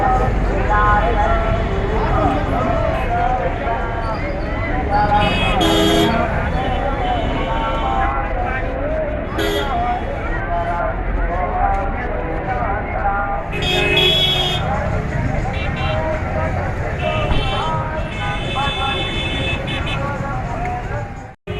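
Car horns honking in a roadside traffic jam where vehicles stop in the middle of the road, several loud toots among dense traffic noise, with a voice talking over them.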